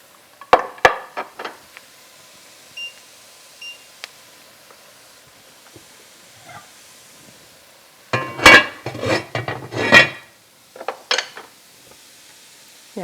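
Meat goes back into a pot of German kale stew with clattering metal cookware: scattered clanks and scrapes, then a louder, busier burst of rattling and knocking near the end, close by with no talk.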